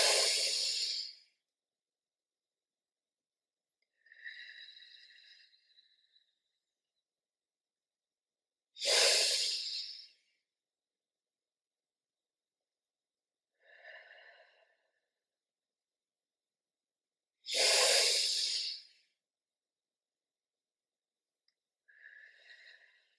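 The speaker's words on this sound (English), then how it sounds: "Thank you for taking that time to practice some mindful breathing." Three slow, deep breaths taken during a mindful breathing exercise, each a broad airy exhale followed by a softer, shorter inhale, evenly spaced in an otherwise silent room.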